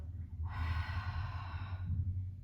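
One long breath pushed out through the mouth, a breathy rush lasting just over a second, close and alone over a low hum.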